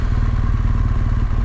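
A motorcycle is ridden toward the coast, its engine giving a loud, steady low rumble with a rapid pulsing thump and rushing wind noise.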